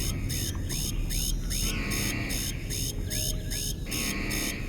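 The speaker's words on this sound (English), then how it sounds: "Boy, that alarm's annoying." A repeating alarm blares inside a ship interior in the video game Starfield, its pulsing beeps cycling steadily and loudly over a constant background hum, with no talking.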